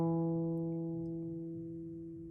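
A single guitar note plucked on the fifth string at the seventh fret rings out clearly and sustains, slowly fading over a couple of seconds, alone with no talk.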